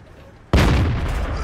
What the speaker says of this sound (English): What a shot. That Nassau did not know what had hit him.